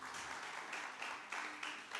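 A church congregation applauds the Lord during a French and Swahili thanksgiving service, steady dense clapping with rhythmic swells, a crowd filling the room.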